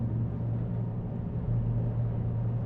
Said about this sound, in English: the engine is actually running out of power